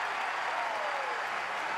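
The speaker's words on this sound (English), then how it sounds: "Listen to this crowd into it now." Baseball stadium crowd at a college game between Texas and Tennessee Tech cheering and clapping steadily, a broad, sustained wash of applause and voices at even loudness throughout, with no distinct speech.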